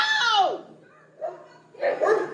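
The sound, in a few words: dog barking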